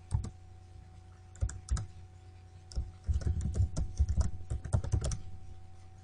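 Computer keyboard typing a user password during a Windows server lab session: irregular bursts of clicking keystrokes, sparse at first then quicker and denser, close and clear over a low steady electrical hum, with no talking.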